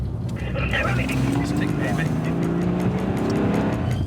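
A fleeing car accelerating away during a motorway police pursuit, its engine rising steadily in pitch under continuous road and wind noise, with people talking over it.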